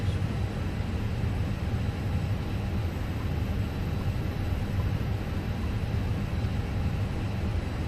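The auxiliary power unit of an Airbus A320, modelled by Fenix in a flight simulator, spools up as a steady broadband roar and whine, loud and unbroken, with no talk.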